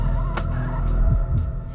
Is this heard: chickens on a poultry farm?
yes